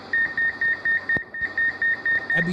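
An air fryer timer beeping in a steady rapid series of about a dozen short high-pitched bleeps, loud and close, briefly interrupted by a thump, with a low voice entering at the end.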